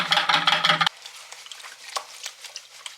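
Crushed, oxidized beach quartz swirls and scrapes in a gold pan, a gritty rattling and sloshing of wet sand and grains, loud at first, then softer with scattered clicks.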